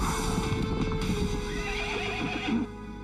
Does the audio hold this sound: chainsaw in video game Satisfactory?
no